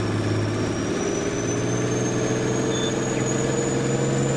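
A 405-horsepower vehicle engine in Farming Simulator 19 runs with a steady, loud, low droning hum and a faint high whine. It stays constant throughout with no voices.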